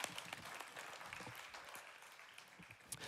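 Congregation at a French-language church service breaking into sustained applause, dense steady clapping throughout with a few louder cheers near the end.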